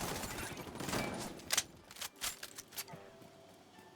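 Bursts of gunfire ring out in a shooter video game, several sharp cracks clustering loudly in the middle and trailing into scattered, quieter shots over a low background hum.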